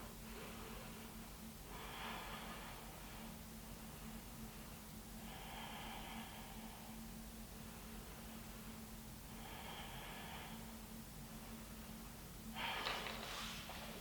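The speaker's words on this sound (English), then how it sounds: "Take a few deep breaths here." Deep, slow breathing during a seated yoga twist, heard as four soft, drawn-out breaths spaced a few seconds apart over a low steady hum. The last breath is slightly louder and sharper.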